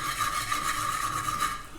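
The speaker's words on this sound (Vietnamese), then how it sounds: "Là mình rang đậu phộng nhá." Raw peanuts are stirred with salt in a hot pan, a steady scraping, rustling rasp close by with a sharper scrape at the end, and no one talking.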